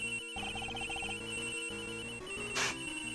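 A second cell phone rings in the Ace Attorney video game, a rapid pulsing electronic ring over looping game music, with a brief burst of noise near the end and no voices.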